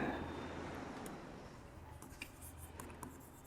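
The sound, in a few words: chalk or marker writing on a board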